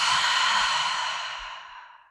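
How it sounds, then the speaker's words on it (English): One long, full exhale during a hip-strength and spinal-mobility workout, close and breathy, tapering off over about two seconds. "take a full breath in and out"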